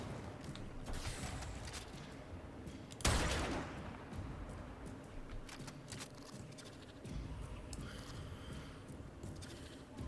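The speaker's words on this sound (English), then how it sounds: "Shooting things at me." Enemy gunfire in Warframe rattles in scattered, fairly quiet bursts of shots, with one sudden loud blast partway through over a constant background din.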